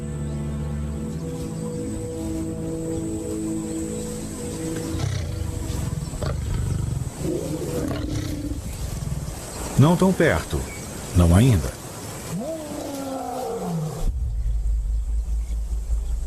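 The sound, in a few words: lion roaring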